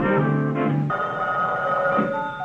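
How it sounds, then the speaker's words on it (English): A telephone rings in a steady electronic warble that shifts partway through, loud and continuous with no talking. "the phone rang"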